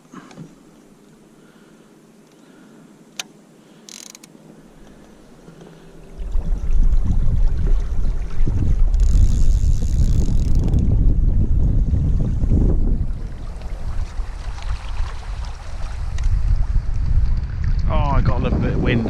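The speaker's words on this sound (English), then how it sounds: "I got a little bit of wind." Strong wind buffets the microphone at a lake, a loud rushing roar that swells in and persists with gusty surges, with speech present in the clip.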